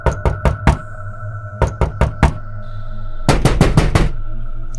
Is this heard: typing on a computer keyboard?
no